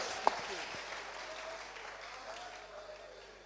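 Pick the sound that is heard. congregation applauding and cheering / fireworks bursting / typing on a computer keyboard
congregation applauding and cheering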